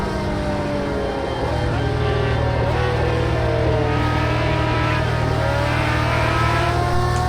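1988 Jaguar XJR-9 Le Mans prototype at Donington, a loud continuous engine drone with rising and shifting gear-pitch whines, steady and close throughout.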